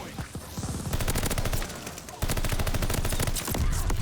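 Rapid automatic gunfire in Call of Duty Vanguard: dense bursts of shots fired close up, broken by a brief pause before a second long volley.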